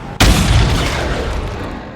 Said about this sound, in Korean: 폭발한 마빈의 차 허무하게 사망합니다.